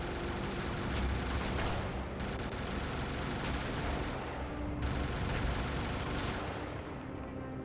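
Gunfire from the Brigador mech game sounds in dense, rapid bursts, with sustained rattling volleys that stop abruptly twice before starting again, loud and close, with no voices.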